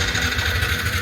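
A motorcycle engine runs with a steady, throbbing mid-pitched drone just before setting off on a ride from Makassar to Parepare. The sound is close and fairly loud, with no voices over it.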